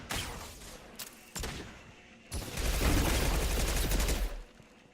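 Mass Effect 2 gunfire rattles in rapid bursts on Insanity difficulty, followed by a loud, sustained roar of weapon fire and impacts, close and dense with no speech.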